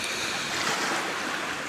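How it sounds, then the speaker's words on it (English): Ocean waves wash against shoreline rocks on Lamma Island, Hong Kong, a close, steady roar of surf and spray with gusting wind across the microphone and no distinct breaks. "hopefully I won't get trounced by waves"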